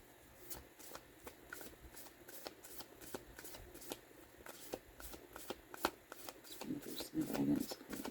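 Guidance cards are shuffled in quick, soft riffling bursts, close and fairly quiet, with a steady rhythmic patter of card flicks and a faint voice underneath.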